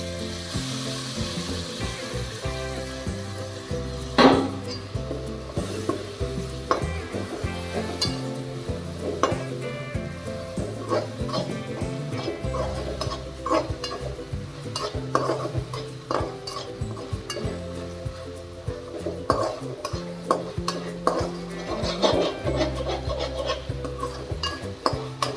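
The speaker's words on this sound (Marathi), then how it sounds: "आता छान अशी मुगाची डाळ परतून झाल्यानंतर" Moong dal sautéed and stirred in a pan, a steady sizzle with frequent scraping clinks of a spoon against the pan, close and continuous without talking.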